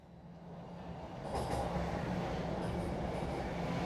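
A subway train rumbles steadily in a station, a broad continuous roar that swells louder partway through and holds, with faint high metallic hiss from the wheels on the rails.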